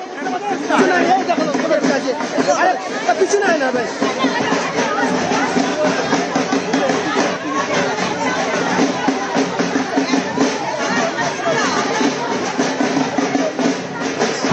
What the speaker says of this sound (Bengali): এদিকে পথে নেমেছে মহিলা তৃণমূল কংগ্রেসের মিছিল